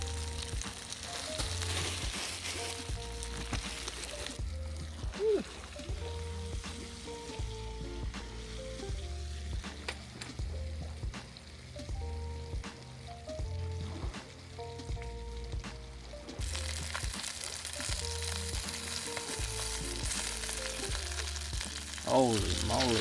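Piper fish frying in butter in a pan, a continuous close sizzle and crackle with faint background music underneath throughout.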